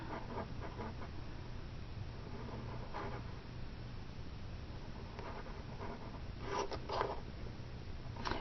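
Pen or marker scratching and scraping across a wooden surface while a simple flower is drawn, soft and close, with a few denser strokes near the end.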